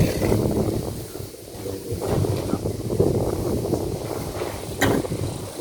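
Strong wind buffets the microphone outdoors, a loud rumbling roar that rises and falls in gusts throughout, with faint voices underneath.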